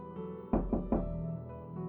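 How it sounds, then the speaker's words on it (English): Three quick knocks on a door, close and hollow, rap out in an even rhythm against a faint background hum. "There was a sudden knock on her door."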